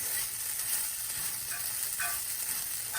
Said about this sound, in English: here we're sauteing the rice, the arborio rice